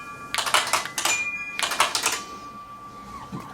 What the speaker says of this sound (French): si on appuie sur les touches, on peut faire de la musique comme on a envie